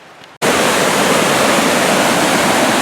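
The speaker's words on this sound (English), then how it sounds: "Here are the rapids." Steady, loud roar of river rapids on a Boundary Waters canoe trip, bursting in after a brief quiet moment and holding as a dense, unbroken rush of water close by.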